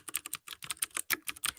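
Rapid keystrokes on a computer keyboard, clicking in quick irregular bursts with brief pauses, close and clear with no voices.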